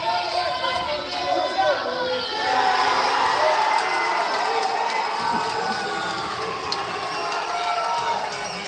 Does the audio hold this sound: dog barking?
no